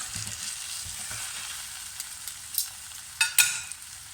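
Lamb shanks seasoned with garam masala sizzle steadily in a pan after being flipped for nihari, a continuous fizzing hiss with a couple of sharper crackling bursts near the end, no voices.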